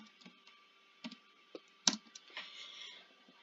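Keystrokes on a computer keyboard, typed while entering a game command, come as sparse, irregular clicks with one sharper tap in the middle. They are faint and close, with no talking.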